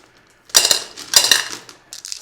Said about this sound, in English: I'm just going to be a little bit careful putting them in because you could potentially break your dish